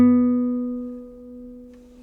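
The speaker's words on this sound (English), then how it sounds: "And B is on the 4th fret." A lone guitar note B, fretted at the 4th fret of the 3rd string, is already ringing and slowly fades, with a slight swell partway through as it sustains.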